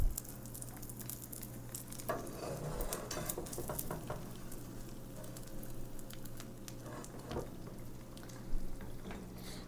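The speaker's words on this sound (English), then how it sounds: "Got my eggs going here." Eggs fry in a pan with a quiet, continuous crackle and patter, broken by occasional louder pops and the scrape or clink of a utensil.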